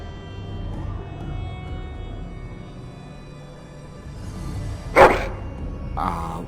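A dog in Dragon Age: Origins gives one sharp, loud bark, followed by a shorter second bark a moment later, over a quiet game background.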